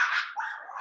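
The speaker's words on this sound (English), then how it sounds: "sorry, the dog." A dog gives a short, close whine-like bark, a single brief vocal burst with no talk over it.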